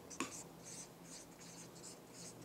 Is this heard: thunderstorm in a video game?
no